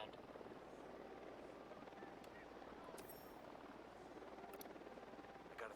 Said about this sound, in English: Ahí viene un helicóptero armado hasta los pinches dientes.